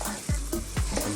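Lamb curry ingredients sizzling in a wok, a steady close frying hiss broken by a couple of sharper stirring scrapes, with no talking.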